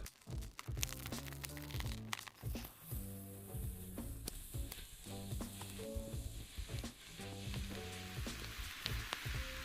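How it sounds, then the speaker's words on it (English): Oranges fry in a pan, a steady close sizzle with crackles and stirring, over a rhythmic tonal pattern in the background. "Now we'll fry oranges."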